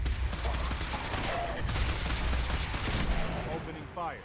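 Rapid gunfire from the video game Fallout 4, sustained bursts crackling loudly through the whole stretch, with spoken voices and game sound effects mixed in.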